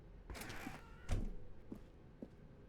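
Door in The Stanley Parable swinging open with a short creak followed by a dull thunk and a couple of softer knocks, close and fairly quiet.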